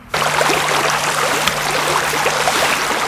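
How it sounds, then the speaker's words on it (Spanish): A stream of water flows steadily through the Dunhuang oasis at the end of the Silk Road, a continuous close broadband rush and trickle with a faint low hum underneath and no voices. "El arroyo llega hasta las aldeas."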